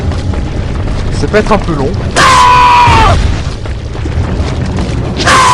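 Explosive grenade blasts in Resident Evil 4, one heavy boom with a ringing tail near the middle and another bursting at the very end, loud and close, with someone speaking French over the game sounds.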